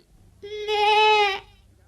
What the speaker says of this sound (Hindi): और ये तुम्हारी बकरी है?